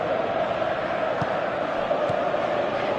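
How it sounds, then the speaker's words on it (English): Stadium crowd in a football video game, a steady broad roar of many voices swelling faintly, with a couple of brief thumps, carrying on continuously and fairly loud with no talk over it. "Crowd appreciates good football all round there"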